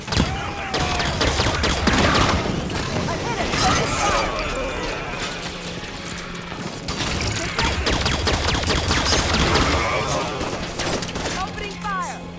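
Dense, sustained gunfire in the Halo 5: Guardians video game, rapid automatic bursts and loud volleys that hardly let up, layered with mechanical clatter and game effects.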